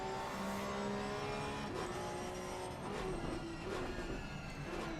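Porsche Cup race car engine heard from the cockpit in a racing video game at Silverstone, a loud steady drone with shifting pitch and rev changes throughout, no talk.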